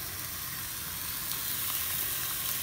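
Six strips of bacon frying in a pan, a steady broadband sizzle with faint crackling pops throughout, no voices.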